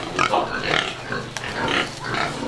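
Duroc pigs, about three months old and golden-yellow, on a farm grunt and squeal in a continuous, busy chorus close by, the noise rising and falling in several loud bursts with no one talking.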